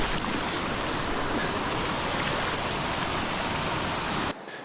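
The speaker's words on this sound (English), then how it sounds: "We had to hike up a ravine through a river to get to the site." A river rushes steadily through a jungle ravine in the Amazon, a broad, close, unbroken roar of flowing water that cuts off abruptly near the end.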